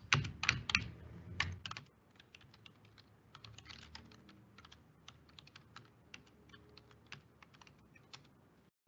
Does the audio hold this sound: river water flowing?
no